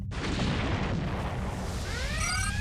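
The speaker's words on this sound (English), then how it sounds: "Explosion detected on the USS Shitshow." A sci-fi spaceship explosion, the USS Shitshow blowing apart with decks venting atmosphere: a loud, sustained roaring blast with heavy low rumble, followed by rising whistling tones near the end, alone without talk.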